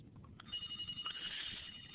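A telephone rings in a classroom-style setting, a steady electronic ringing tone that begins about a quarter of the way in and continues to the end, moderately loud over a low background murmur.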